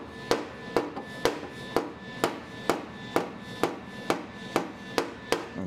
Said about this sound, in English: this one I'm going to be able also to use the hammer to press